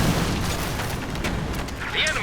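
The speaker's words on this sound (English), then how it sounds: "They're going to easily clean up that glider, and it's going to blow into a million pieces possibly." Booming blast of a glider blowing apart in the strategy game Company of Heroes 2, a loud sustained rumble under an excited commentator's continuous talk during a 4v4 match.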